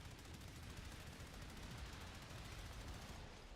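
Continuous rapid gunfire from a first-person shooter game, a dense unbroken barrage of shots sprayed wildly while spinning, steady and moderately loud throughout with no pauses.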